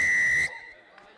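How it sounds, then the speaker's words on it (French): A referee's whistle at an under-19 rugby match blows one sharp, loud, steady blast lasting about half a second, then cuts off into faint crowd noise. "C'est sifflé, les gars."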